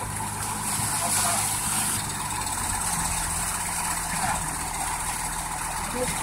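A truck idles nearby with a steady, low, droning rumble and a constant hum that holds unchanged from start to finish, with faint voices blended into the background.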